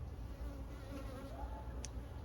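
Honeybees buzz steadily around urban beehives in Paris, a continuous close hum with a few wingbeat tones drifting in and out and no talking.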